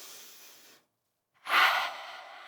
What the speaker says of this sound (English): take one more breath